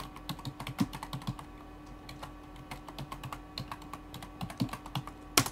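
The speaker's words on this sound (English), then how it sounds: "let me just retype this real quick." Steady typing on a computer keyboard: quick, uneven key taps with a few heavier strokes, close and moderately quiet over a faint background hum.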